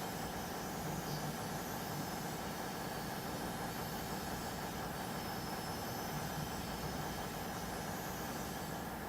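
Steady low diesel rumble of an ICE TD train idling in Train Simulator 2015 on the Hamburg–Hanover line, a constant droning hum with no change in rhythm across the whole stretch, moderately loud and alone.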